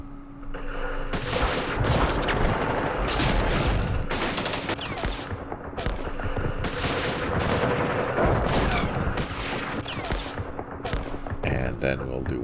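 Dense, sustained gunfire from a Vietnam War strategy game, crackling volleys and rapid bursts layered almost continuously for several seconds with occasional heavier booms mixed in.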